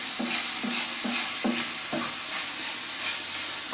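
Seasoned meat sizzles steadily in a frying pan while a spoon or spatula scrapes through it in a few rhythmic strokes, close and continuous.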